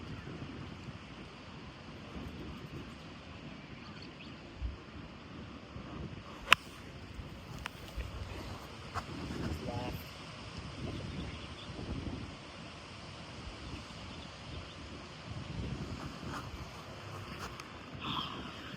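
Gusting wind over an open golf course buffets the microphone with low rumbling surges, a steady outdoor roar with a sharp click partway through and no speech.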